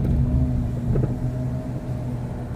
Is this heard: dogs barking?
no